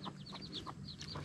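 A chicken, a protective parent guarding its chicks, clucks in a series of short, bright calls repeated every few tenths of a second over a low steady background rumble outdoors.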